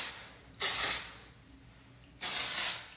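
Two bursts of R&Co Balloon hair product sprayed close by, each a loud airy hiss lasting about half a second, separated by a quiet pause.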